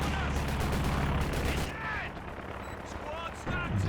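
Machine gun fire in the World War II strategy game Company of Heroes 2, dense continuous bursts of gunfire with booming impacts mixed in, loud and sustained throughout.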